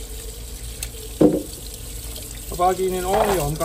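Tap water runs over the removed brew unit of a coffee machine, its grimy base being rinsed at a sink in a steady splashing flow, while a person talks over it.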